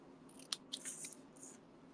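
Scissors snip through card, a few short crisp cuts close by at a steady pace with a quiet background.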